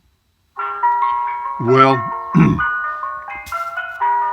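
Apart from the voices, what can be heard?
ice cream truck jingle played by Google Assistant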